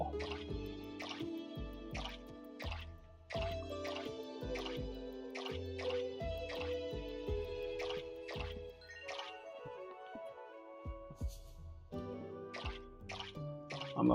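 Watering crops in the video game Core Keeper: a run of bright, plinking water-drip and pour effects in short bursts, repeating over a steady melodic game soundtrack, with no talk.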